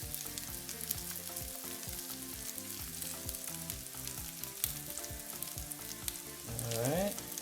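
Potatoes sizzle steadily in a hot pan, a dense crackling fry that runs throughout with small stirring clatters and a brief louder scrape near the end; no one speaks.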